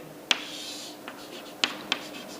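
Pen or pencil strokes on paper while drafting a technical engineering drawing of line projections by hand: a few sharp, close scratchy ticks spread across a quiet background, no talk.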